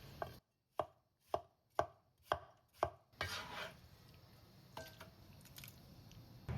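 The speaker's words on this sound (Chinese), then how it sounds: "直接把西红柿切块" A kitchen knife cuts tomatoes into chunks on a cutting board with six crisp, evenly spaced chops, then a softer wet squish and scraping as the pieces are moved, with occasional small taps.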